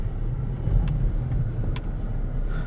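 A 2015 Range Rover HSE on the move, heard from inside as a steady low engine and road rumble with faint light rattles, close and even throughout.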